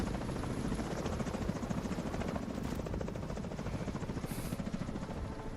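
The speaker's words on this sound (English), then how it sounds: "it seems weird for the chopper to drop us off here" Helicopter rotor in The Division drops the squad at a mission start, a steady loud thudding chop with dense engine whine filling the whole stretch, close and unbroken, with no voices.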